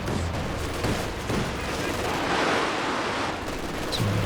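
Katyusha rocket artillery fires in Company of Heroes 2 during a 2v2 match, giving a dense, continuous rumble of launches and explosions with a roaring swell in the middle. A commentator talks over it.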